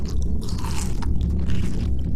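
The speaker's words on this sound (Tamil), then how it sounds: "சும்மா அடிச்சு நொறுக்கலான பீஸாவை அப்படியே அடிச்சு நொறுக்கிற மாதிரியே சாப்பிட்றான் ஆள் பீஸாவை" Someone bites into and chews pizza close up, producing loud, crunchy, wet mastication noises in quick succession with no talking.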